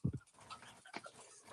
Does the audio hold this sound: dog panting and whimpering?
yes